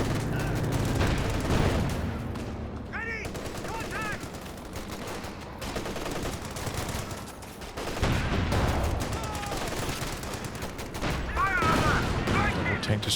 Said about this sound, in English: There goes the MG34.